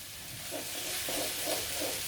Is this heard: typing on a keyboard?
no